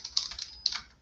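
Computer keyboard typing in short bursts of quick, close key clicks with small pauses between them, no voices.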